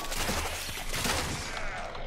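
Rapid gunfire from the Warframe video game, a dense, continuous burst of shots that stays loud and close for about two seconds with no pauses.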